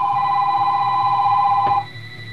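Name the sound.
telephone ringing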